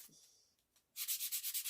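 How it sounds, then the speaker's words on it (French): Wood sanded by hand before painting, a faint rubbing at first, then a louder run of about eight even back-and-forth strokes, close and alone. "je vais un peu poncer le bois avant pour faire tenir un peu mieux la peinture"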